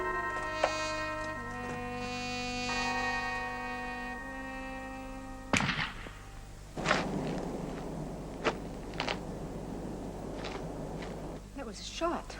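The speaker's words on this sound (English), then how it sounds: "That was a shot. Gamekeeper, perhaps." A single sharp crack, likely a gamekeeper's gunshot, stands out among sustained tones, followed by scattered footsteps and faint knocks outdoors.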